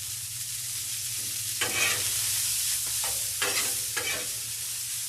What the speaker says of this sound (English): The vegetables are not going to take a long time to saute up.